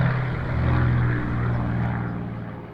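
A Supermarine Spitfire fighter plane's engine drones loudly and steadily, swelling slightly and then easing off as it passes, with no talking.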